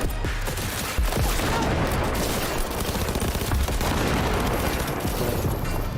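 Rapid gunfire in Cyberpunk 2077: Phantom Liberty, with dense bursts of automatic shots and booming impacts that sound loud and continuous for several seconds.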